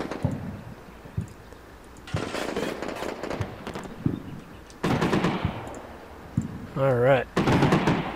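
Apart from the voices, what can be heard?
gunfire in the video game Combat Mission Shock Force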